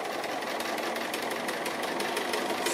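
A sewing machine stitches an appliqué, working around a small steering-wheel shape; a steady, close, continuous whir with rapid rhythmic ticking of the needle runs throughout, with no talking.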